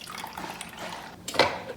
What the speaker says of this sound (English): Pour my water in.